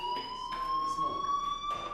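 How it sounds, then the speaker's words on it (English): A fire alarm rings in the video game Life is Strange, a steady, piercing electronic tone that holds unbroken throughout, with faint voices and background sounds beneath it. "Hey, do you hear that fire alarm?"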